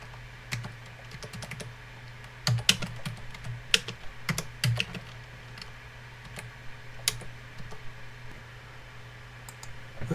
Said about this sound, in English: Let's type the numbers in.